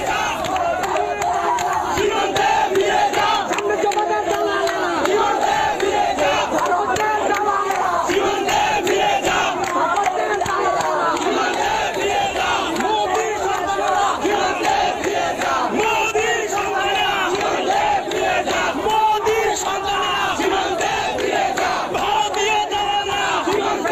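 A large protest crowd chants a slogan in unison, loud and rhythmic, with many voices shouting together continuously throughout.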